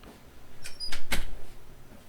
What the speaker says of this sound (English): let me close my door so I can say something